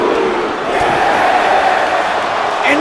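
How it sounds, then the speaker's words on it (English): A large arena crowd in the WWE 2K24 wrestling video game boos and jeers in a steady, loud, continuous roar that holds without a break. "This crowd showing their displeasure, showing their hatred"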